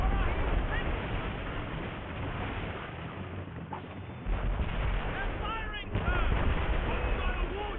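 Ship cannons fire in Assassin's Creed Rogue amid dense naval battle noise, with booming blasts and rumbling chaos under game voices shouting orders.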